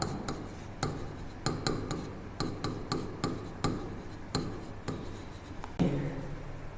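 Chalk tapping and scraping across a board in sharp, irregular strokes, close and fairly loud over a low steady hum, with no voice heard.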